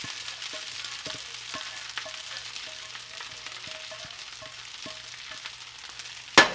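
Vegetables hitting a hot pan of frying rice for chicken fried rice, a continuous close hissing sizzle with faint rhythmic clicks and scraping, ending in a sharp metallic clack.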